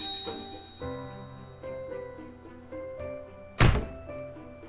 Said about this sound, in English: There was a loud, sudden metallic sound as my back struck the bench behind me